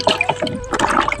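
Water runs and splashes while carrots, tomatoes and a bowl are rinsed in a home kitchen, with irregular close-up spatters and trickles across the short moment.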